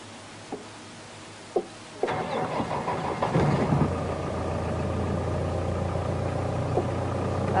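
A car engine starts and settles into a steady running drone as the vehicle begins to move off, with a few faint clicks before it, recorded from inside the car without talk.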